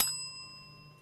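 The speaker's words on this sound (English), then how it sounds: "I knew Dylan was going to present me with an opportunity to ring the bell" A single bright strike of a small bell, a sharp ding followed by a ringing tone that slowly fades over about a second, close and clear.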